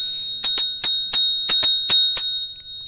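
A small bell struck nine times in an uneven rhythm over about two seconds, each ring bright and close with a short decaying shimmer, during a live morning bench-side pop-up session.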